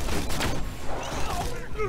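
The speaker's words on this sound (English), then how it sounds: "That is a spider gun." A spider gun fires in the shooter game Borderlands 2, a rapid crackling volley of shots with dull thumps, heard under a player's voice and in-game noise.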